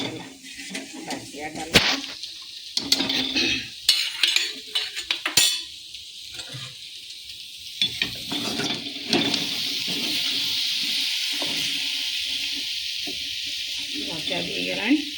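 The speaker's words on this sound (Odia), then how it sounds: "ଛୁଙ୍କ ଦେଇଦେଲି" Tempering (chhunk) for dalma sizzling in a pan, a crackling hiss that settles into a steady sizzle, with clinks of utensils and a voice speaking over the first half.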